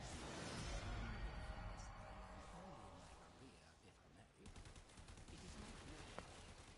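Rapid gunfire from weapons in the video game Warframe, a dense burst of shots up front that fades, then sharper crackling rounds later, mixed with game effects and no talking.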